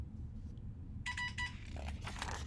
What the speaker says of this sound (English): Whoops, there goes my phone.